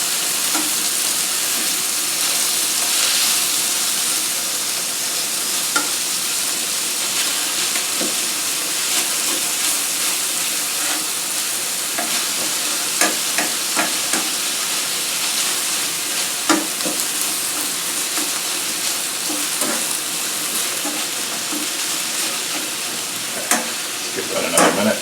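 Sausage sizzles steadily in a hot pan for the whole stretch, with occasional scraping and knocking as it is broken up and stirred.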